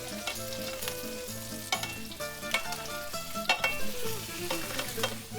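Seasoned cod fillets freshly turned in a hot frying pan give off a steady close sizzle and crackle, with a few clinks and scrapes of a utensil and no talking.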